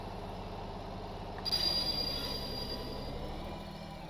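A video game train rolls along with a low steady rumble, then a thin metallic wheel squeal rises over it midway and lingers as the train keeps moving.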